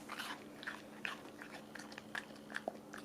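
A dog crunches and gnaws on a frozen fruit and vegetable snack, a quiet, close series of irregular bites and crisp crunches without talk.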